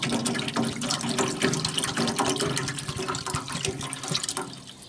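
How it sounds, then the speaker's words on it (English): Water and apple cider vinegar pour and splash steadily into the water pan of a Masterbuilt electric smoker, a continuous close trickling gush with some dripping and no voices. "And you want to put a mix of water and apple cider vinegar in here."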